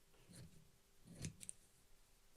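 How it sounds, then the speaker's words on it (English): Scissors snip through a fabric scarf in a quiet room, a few soft crisp cuts with one brief louder snip near the middle, fairly close and faint overall. "So I'm going to cut this scarf up."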